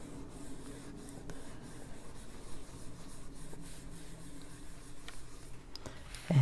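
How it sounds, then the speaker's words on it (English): A finger rubs colored pencil into paper to blend a green haze, giving a soft, continuous dry rubbing that stays steady and close, with no voices. "I'm just using my finger here and rub that in a little bit"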